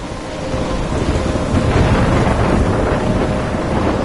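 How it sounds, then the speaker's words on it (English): A thunderstorm in the game Life is Strange roars steadily and loudly, with dense rain and wind and a low rumble of thunder filling the whole stretch, and no voices. "I'm trapped in a storm?"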